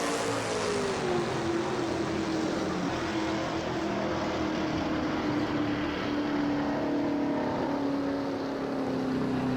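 Race car engine in an NNSCRA Castrol GTX Cup Series racing game at the Napa Know How 500, a loud steady drone whose pitch climbs and settles as it shifts into high gear, continuous throughout.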